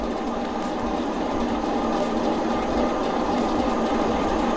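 A hand-spun free energy generator lighting a bulb gives off a steady, loud mechanical whir and rattle, continuous without pause.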